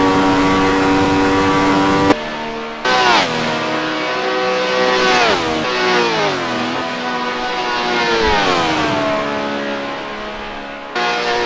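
Ferrari 312T Formula One cars racing at Spa in a racing video game, their engines screaming loud and continuous with pitch climbing and dropping through repeated gear changes.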